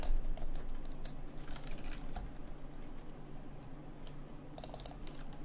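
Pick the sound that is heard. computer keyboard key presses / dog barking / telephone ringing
computer keyboard key presses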